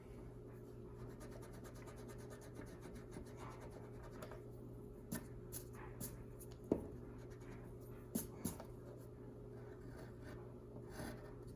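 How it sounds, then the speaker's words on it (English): Pencil scratches and taps on music paper as half notes are drawn, with short rubbing strokes and small marks spread over a quiet room hum; close and soft, no talking. "Draw one half note in each measure on different lines."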